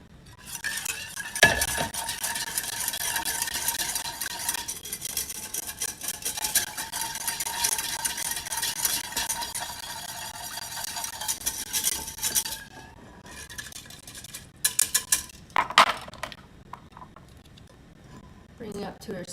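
Ingredients stirred and mixed in a pot, a steady scraping and clinking of a utensil against the pot for about twelve seconds, then a few sharper knocks and clatters, close and fairly loud.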